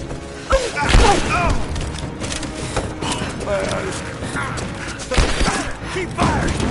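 Gunfire and impacts in Rise of the Tomb Raider on PS4, scattered booming shots and thuds, with voices shouting over the combat.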